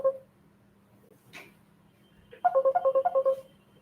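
Phone ringtone for an incoming call: an opening tone, a brief pause, then a quick run of bright, evenly spaced electronic beeps, loud and close, with no talk.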